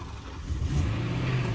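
BMW E92 M3 engine idling steadily, then rising into a held rev of about 2000 rpm during a coolant top-off on a salvage car; a close, continuous mid-pitched engine drone with no talking.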